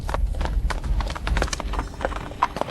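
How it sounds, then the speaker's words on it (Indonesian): Many horses gallop together as Dayue cavalry charges, producing a dense, rumbling drum of hoofbeats with overlapping thuds that stays loud and continuous throughout. "Pasukan berkuda Dayue tembus."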